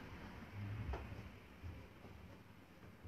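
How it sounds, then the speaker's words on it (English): A single faint, muffled bump made at a door inside the Black Swan in York: one low thud with a brief sharper tap, set against a quiet, hissy room with no talking. "Could you make a noise by one of the doors as well"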